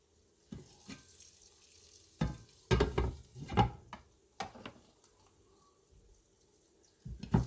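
Eggs cook in a frying pan alongside beef butter and bacon, with soft sizzling under a series of sharp clattering knocks and scrapes of utensils against the pan.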